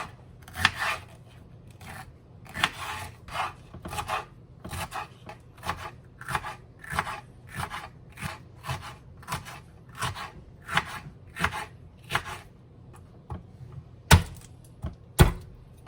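A knife chops bell pepper on a cutting board for a walnut spaghetti dish, a steady run of close, crisp thuds about two per second, ending with two sharper, louder knocks.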